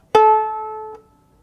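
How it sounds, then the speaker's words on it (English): A bowed-string instrument's D or A string is plucked once, giving a clear ringing tone that sustains for almost a second. A fingertip placed on the string then cuts it off abruptly, with only a faint damped buzz. "I'm going to take my finger and put it on the string so it stops vibrating, so we would stop the sound like this."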